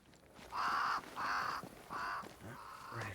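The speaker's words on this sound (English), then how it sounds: "Red doesn't like crows." Crows cawing in the video game Banishers: Ghosts of New Eden, four loud drawn-out caws in a steady rhythm with a near, clear tone and almost no speech.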